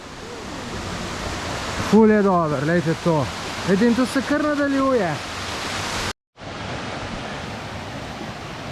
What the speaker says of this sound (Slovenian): Kompleks slapov, bazenčkov.